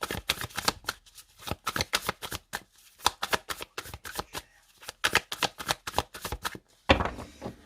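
Tarot cards shuffled and cut by hand in bursts of crisp riffling flutters separated by short pauses, close and clear, ending with a final louder shuffle and no talking.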